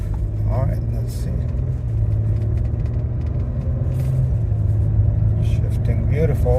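A 2017 Audi Q7 with a replacement transmission cruising on a highway, a steady low cabin rumble with a constant engine hum, and a voice briefly heard over it.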